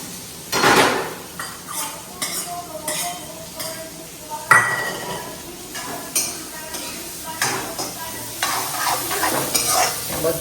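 Onions and garlic, with a pinch of turmeric, frying in a pan while a utensil stirs and scrapes, giving repeated metallic clinks and knocks over a constant sizzle, close up.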